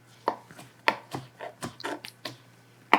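Caramelized onions chopped with a knife on a cutting board: about nine distinct close, crisp knife taps at an uneven pace, moderately loud.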